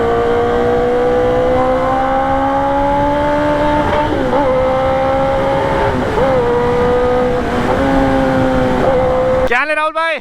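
An Eeco car engine pulls hard along a highway, its drone rising in pitch and then dropping at each of several gear shifts, loud and close from inside the cabin, with a sharp break near the end.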